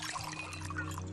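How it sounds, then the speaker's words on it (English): A drink being poured into a glass, a soft continuous liquid trickle and splash lasting about a second, faint and close over a low steady hum. "He grabs his drink and downs it, then walks back to pour himself another"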